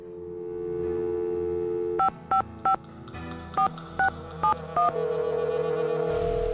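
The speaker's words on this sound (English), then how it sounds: "Let's try calling the Hadit office first." Touch-tone keypad beeps dialing a phone number in the Nancy Drew: The Final Scene video game, with seven short, evenly spaced tones over a steady hum, followed by a rising line tone.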